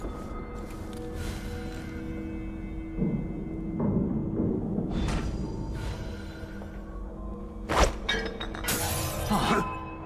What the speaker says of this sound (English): That sounded like broken glass.